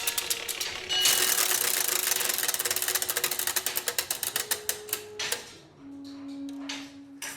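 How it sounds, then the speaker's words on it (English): Centuries-old clockwork of the Zeitglocke clock tower in Bern, Switzerland, ticking and whirring: a dense run of rapid mechanical clicks that slows and fades, followed by a steadier gear whir and a few scattered ticks, close up. "This is the machine at the heart of the Zeitglocke. Its beat, its to and fro movement, is the beat that drives the time system of the city."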